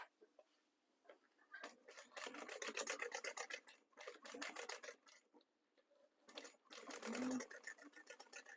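A sewing machine top stitches a folded seam toward the back panel, running in several short bursts with quiet gaps between them, close and moderately loud.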